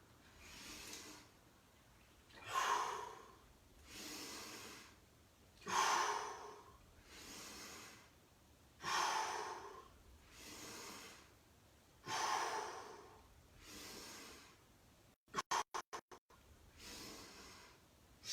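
Rhythmic, heavy breathing during a set of push-ups: about a dozen close, forceful inhales and exhales in an even cadence, with a brief burst of rapid clicks near the end and no talking.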